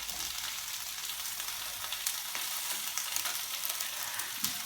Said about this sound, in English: Got some very thinly sliced mushrooms into the pan.